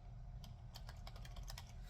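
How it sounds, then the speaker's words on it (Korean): Typing on a computer keyboard at a desk while entering text into an Excel spreadsheet: a quick run of crisp, close key clicks in an uneven rhythm over a low steady hum, with no talking. "그냥 타자를 쳐요."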